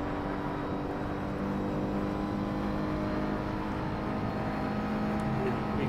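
A sim-racing car in the simGT series at Road America holds steady at full throttle, its engine a continuous, even drone with harmonic whine that stays loud and close throughout.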